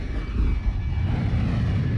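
Interceptor starfighter in Star Wars Galaxies flying steadily, a continuous loud engine roar with deep rumble and a faint high whine, no talk.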